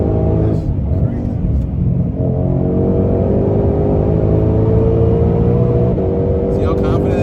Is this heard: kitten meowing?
no